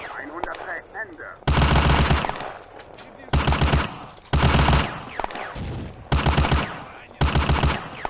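Infantry squad gunfire in the war video game Firefight on the Eastern Front, loud bursts of automatic fire repeating in roughly one-second blocks, separated by quieter gaps with distant shots.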